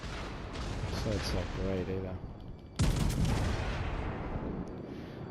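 Battleship main guns fire in World of Warships, one loud booming salvo about midway that rolls on afterward, with someone talking over the game sounds before it.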